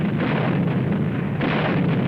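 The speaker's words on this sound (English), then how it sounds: "This is artillery and mortar rounds." Artillery and mortar rounds exploding in Korean War combat footage, a dense, continuous low rumble of blasts with a fresh surge partway through, loud and steady with no distinct pauses.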